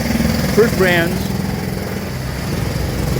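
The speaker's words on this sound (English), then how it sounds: "whoa, still drilling" Drilling noise in the background, a steady engine-like mechanical drone running continuously beneath someone speaking close up, loud and unbroken throughout.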